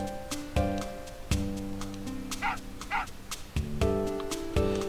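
A dog barks repeatedly in Final Fantasy VIII, several sharp electronic bark-like hits over a steady game music bed, some close together.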